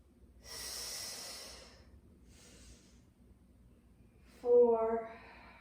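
Long, breathy exhales during a level 1 mat Pilates flow, a soft hiss of air near the microphone followed by a fainter breath and then a short voiced exhale.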